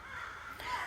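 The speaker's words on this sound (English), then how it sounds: "I'm at the park. You hear the birds?" Crow cawing in a park, one harsh call standing out over a soft hiss of ambient outdoor noise, brief and moderately distant.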